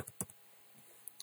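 Soft clicks from a computer keyboard, with a quick cluster of keystrokes at the start and a couple of isolated taps near the end, close and faint in a quiet room.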